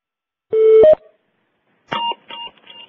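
Telephone keypad tones from dialing into a webinar call: one steady two-part tone, a pause, then several quicker tones in succession, loud and close with no voices.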